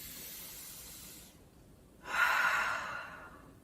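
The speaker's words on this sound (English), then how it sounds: "One more big breath." Deep breath in and out during a children's autumn-themed yoga class, a soft airy inhale fading to a brief pause, then a louder breathy exhale swelling close to the mic and tapering off.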